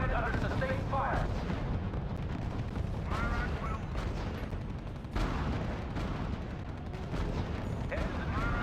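Battle din in the strategy game R.U.S.E: continuous heavy artillery booms and gunfire rolling close and loud, dense and unbroken, with voices partly buried in the noise.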